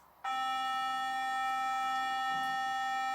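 A single bowed viol string plays a C sharp in sixth-comma tuning, a bright sustained tone with rich overtones that starts abruptly and holds without change.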